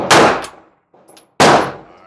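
Two loud, sharp pistol shots about a second and a half apart, each ringing briefly, with a faint metallic clink between them.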